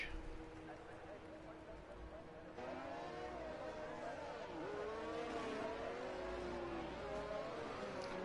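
Race cars run on a track at a Singapore round, their engines droning and shifting pitch through long revving sweeps, heard at a distance under a steady background wash.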